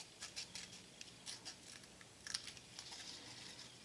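A series of small, crisp snips and light crinkles as a piece of fiberglass nail wrap is cut, close up and quiet, in uneven bursts.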